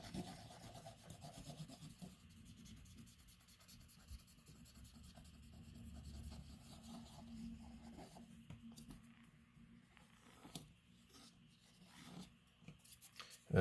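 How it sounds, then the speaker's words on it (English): Q-tips soaked in rubbing alcohol scrub the cartridge pins of an N64 game board, a faint continuous rubbing and rasping that goes on for over ten seconds with a few louder scratchy strokes. "just going to use Q-tips, rubbing alcohol, and just clean these pins as best as we can"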